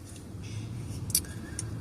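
A car in motion heard from inside the cabin: a steady, low road rumble and hum runs throughout at a fairly quiet level, with a few faint brief higher noises drifting over it.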